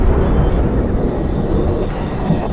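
Thunder from a storm, a loud, continuous low rumble that rolls on without a break and swells slightly toward the end.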